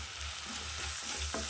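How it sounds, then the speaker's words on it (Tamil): Mutton masala, chilli powder, turmeric and salt are stirred in hot oil for a cauliflower and green pea gravy. A soft, continuous sizzle plays under faint scraping stir strokes, quiet and close. "நல்லா இந்த எண்ணெயிலே பரட்டி விடுங்க."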